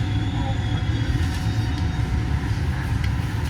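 A train ride from Venice to Venezia Mestre, a steady rumbling rail-car drone with a constant low roar and faint rattles, no clear speech.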